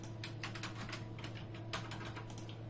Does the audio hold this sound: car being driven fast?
no